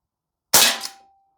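A Crosman Triple Threat CO2 revolver fires a single pellet outdoors at about 70 degrees Fahrenheit, one sharp, loud crack with a short decaying tail, heard alone.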